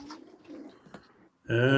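Pigeon cooing close by, a low soft coo with background sounds before a louder, harmonic call near the end.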